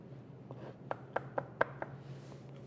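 A knife chops minced parsley on a cutting board, a run of light, crisp taps that build to a few sharper knocks in the middle, close and fairly quiet over a low steady hum.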